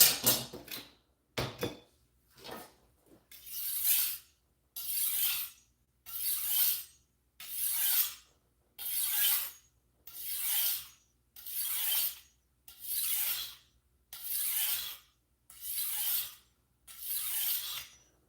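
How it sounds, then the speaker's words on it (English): A knife blade draws across a brand-new sharpening stone in a dozen evenly spaced, gritty scraping strokes, each about a second long with short pauses, after a few quick initial rubs; close and clear, with no talking. "I could feel that on the stone, and you can hear it too"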